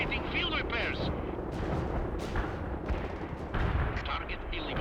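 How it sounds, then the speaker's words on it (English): Continuous rumbling artillery barrages and heavy blasts fill a battle in the video game World in Conflict, loud and dense throughout with overlapping impacts. "Incoming artillery."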